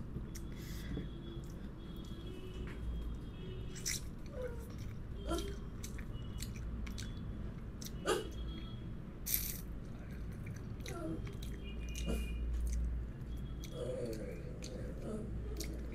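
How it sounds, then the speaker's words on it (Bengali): Close-up chewing of spicy chicken in red curry with rice, wet squishy bites and mastication clicks recurring at an irregular pace, with brief talk partway through. "আমি চিকেন খাচ্ছি"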